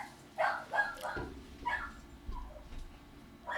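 A dog gives several short, sharp barks and yips in an irregular string at moderate distance, mixed with some low thumps and background noise.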